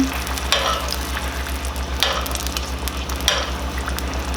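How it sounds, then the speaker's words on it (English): Butter foams around fondant potatoes in a pan as they are basted, a loud, close sizzle broken by three rhythmic splashing bursts from the spoon, over a low steady hum. "Let the butter melt, baste the potatoes."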